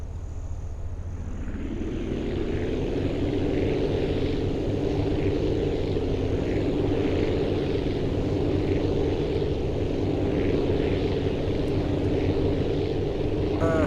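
Four propeller engines on a plane in the video game Aviassembly drone steadily at close range, a loud, even, continuous hum that rises in the first second and then holds without change.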